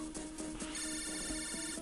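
A phone rings in the Megaman Battle Network 4 video game, a repeating electronic ringtone pulsing several times over game music.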